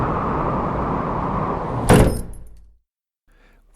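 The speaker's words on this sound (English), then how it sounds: "Yuen pushed the door closed" Storm wind roars steadily before a wooden inn door is pushed shut with a single loud thud, after which the howling cuts off into near silence with only a faint rustle.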